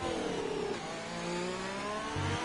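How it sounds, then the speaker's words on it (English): A Ferrari Formula 1 car in a racing video game revs hard at high pitch, a steady, moderately loud whine with slight dips and climbs in pitch and no talking over it. "really revving the engine out there. Ferrari engine screaming for help"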